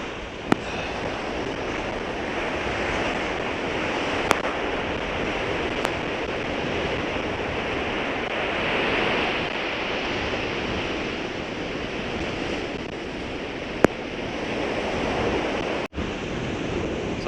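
Steady wind and breaking surf on an open Outer Banks beach, a continuous broadband roar with buffeting wind noise on the microphone and a few brief clicks, no voices.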